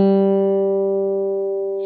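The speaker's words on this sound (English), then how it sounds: "if I play a G on the guitar" A single G note on guitar rings out clean and sustained, close up, slowly decaying over about two seconds with no other sounds.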